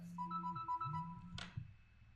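Phone ringtone playing a short melodic run of bright repeated notes, then cut off by a brief clunk, faint and close with no speech over it.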